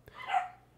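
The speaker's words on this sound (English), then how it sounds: "and my dogs are barking." A dog gives a single short, fairly distant bark or yelp, rising and fading within a second against a quiet background.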